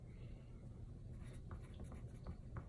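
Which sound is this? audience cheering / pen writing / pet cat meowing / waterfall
pen writing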